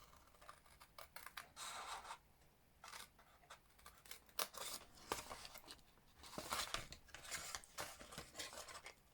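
Scissors snipping through card for a monochrome box, a close, dry run of repeated cuts and rustles in uneven bursts, quiet, with no voices.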